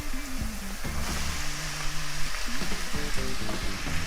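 Chopped onion and peppers sizzle and crackle in tuna oil in a pan, a dense, steady frying hiss throughout, with tonal scraping and stirring sounds from the utensil moving the vegetables.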